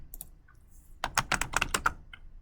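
Rapid clicking of code being typed on a computer keyboard, a quick burst of about eight close keystrokes with a few isolated soft taps before it, fairly quiet and without talk.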